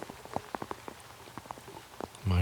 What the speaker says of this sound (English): that rain definitely coming in